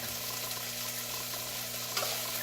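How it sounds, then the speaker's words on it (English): Three cloves of garlic frying in a pan for a homemade meat tomato sauce, a steady soft sizzle with light stirring, fairly quiet and continuous, with no one speaking. "I'm going to add the 3 cloves of garlic."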